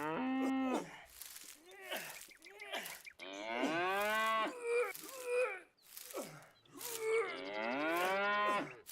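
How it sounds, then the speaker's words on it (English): Cow in the farming video game Farmer's Life lowing during birth, a series of long, loud, drawn-out moos and groans rising and falling in pitch, with short breaks between calls and no other sounds over them. "We're giving birth to a baby cow."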